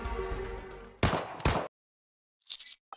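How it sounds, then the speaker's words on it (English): Gunfire in the NIKKE Resident Evil collaboration game: two sharp, loud shots in quick succession follow a stretch of music, then silence and a few brief clipped bursts at the end. "there is a gunshot from below us"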